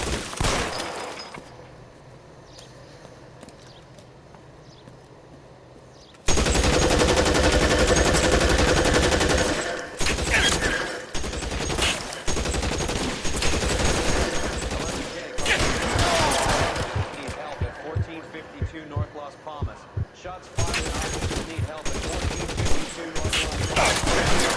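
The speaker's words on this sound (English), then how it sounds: "I'm shooting at them" Gunfire in a video game, long loud bursts of automatic weapons and repeated shots that begin abruptly after a quiet stretch, with players talking over the shooting.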